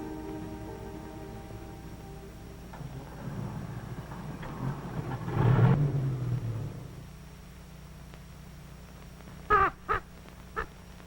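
Blackie, a pet crow in an enchanted forest, caws in a couple of sharp, loud bursts near the end, after a stretch of low rumbling background and a swelling noisy passage.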